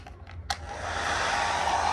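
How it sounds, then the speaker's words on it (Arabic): A hair dryer fitted with a curly diffuser attachment clicks on after a few small handling taps, then blows with a steady, loud, broadband whoosh that holds up close. "عشان صوت الاستشوار هيبقى عالي"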